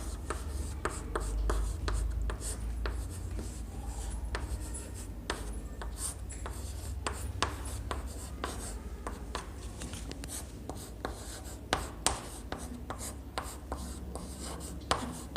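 A pen scratching across paper in short strokes and taps, quiet and close, with irregular pauses between words and a low room hum beneath, no speech.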